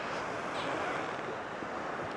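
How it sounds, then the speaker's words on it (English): Surf breaking on a Bristol Channel beach, a steady broadband wash of waves mixed with wind buffeting the microphone, continuous and without distinct individual crashes. "As you can see, the waves are breaking."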